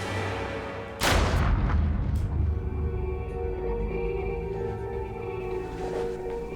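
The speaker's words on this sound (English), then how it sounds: "One shot to the head." A single gunshot to the head, one loud, sharp blast followed by a long rumbling decay that fades slowly.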